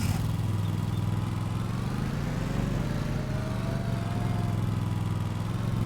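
A lawn mower engine drones steadily and loudly in the Farming Simulator 2025 video game, a constant low hum that barely changes pitch and carries no talk above it.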